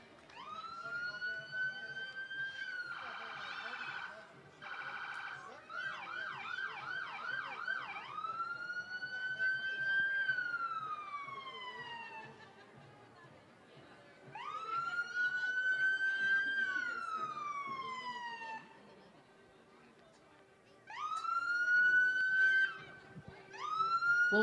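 A police cruiser siren leading a Christmas parade: wailing and yelping tones that rise and fall in long sweeps, loud and close, stopping and restarting several times, with faint crowd noise beneath.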